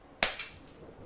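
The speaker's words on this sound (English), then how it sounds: "I flinched as I heard the glass break" Glass breaking in one sharp, bright crash that rings out briefly and fades into scattered tinkling shards, alone with no voices.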